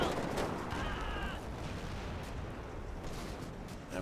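Grenade blasts and gunfire in the World War II game Combat Mission: Battle for Normandy, a dense, continuous rumble of booms and crackling shots with no voices.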